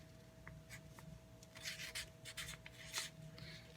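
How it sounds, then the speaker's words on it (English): Pen writing on a sticky note, light rubbing scratches in short strokes, close and quiet against a steady background hum, no voices. "So they would write air on a sticky note"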